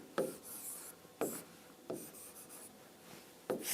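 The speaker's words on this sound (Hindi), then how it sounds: "और एक और क्वेश्चन लिखना चाहूंगा" Marker or chalk strokes scratch across a classroom board while a physics question is written out, in separate scraping bursts with short pauses between them and no talk.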